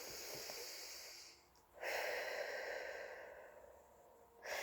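A person breathes slowly through a meditation breathing exercise, with a soft, close, hissing exhale, a pause, then a long airy breath and another starting at the end, with no talking.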